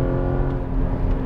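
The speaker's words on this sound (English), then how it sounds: "Tighten up, now accelerate. Gentle pressure, that's it. Look left. Open the radius, upshift." A Porsche Cayman GTS engine pulls hard on a driving course, a steady, loud, close mechanical drone with layered harmonic tones held throughout.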